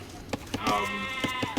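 Sheep bleating in Age of Empires II Definitive Edition, one wavering bleat over clicky game sounds, fairly faint.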